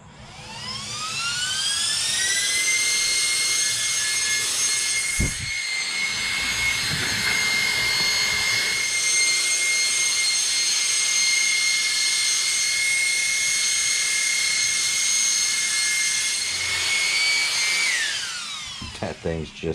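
An Arrma Felony RC car on a single motor with a 3S battery whines loudly and steadily, the electric pitch climbing quickly, holding high for many seconds, then dropping away at the end.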